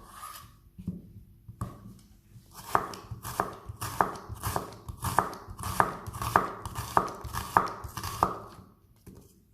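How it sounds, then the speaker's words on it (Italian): An onion is sliced with a knife on a board, starting with a few separate cuts, then a quick, regular run of crisp chopping strokes, fairly close. "Ora affettiamo anche la cipolla."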